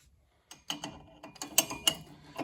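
Wheel on a 1929 Ford Model A mail truck spinning on its bearings after the nut is tightened, a close series of ratcheting, clicking mechanical rattles in uneven bursts after a brief silence.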